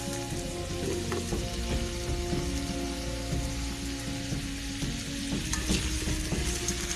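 Onion and green chilli fry in hot oil for a vegetable biryani, giving a steady, dense sizzle with light crackles and occasional stirring throughout, with no voices.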